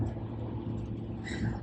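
Inside a moving car, a steady low road rumble and engine hum carry on throughout, close and even, with faint higher noise toward the end.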